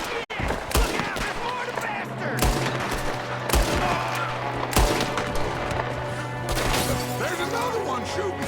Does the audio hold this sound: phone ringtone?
no